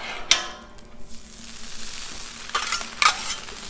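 Eggs frying in butter on a Blackstone griddle, a soft steady sizzle with a few sharper crackling bursts and scraping stirs, close up and without talk.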